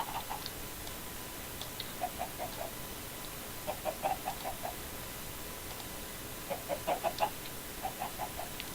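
Chickens in Minecraft's Stoneblock modpack cluck in short scattered bursts over a steady hiss of background noise, with a tight cluster of clucks partway through.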